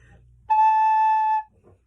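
A single recorder note A rings out, bright and steady for about a second, starting after a brief quiet murmur and ending with a soft voice fragment.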